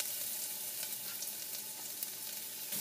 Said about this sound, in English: just want to saute the onions in there